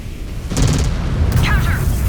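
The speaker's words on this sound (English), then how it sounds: "Hostiles firing!" Gunfire from hostile mechs in the MechWarrior 5: Clans combat game, a burst of booming, rapid shots breaking out after half a second over a steady battle rumble, with a short radio-like voice partway through.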